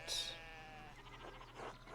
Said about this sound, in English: One of the fence rails fell and the sheep started hopping it